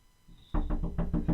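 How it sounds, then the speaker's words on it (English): Someone knocks on a bedroom window, a quick run of about six sharp knocks, close and loud. "someone's knocking on my window"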